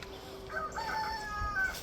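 Chickens and a rooster at a farm by a brick chicken coop, with a faint crowing call and soft clucking in the background, short and fairly quiet against a low ambient hum.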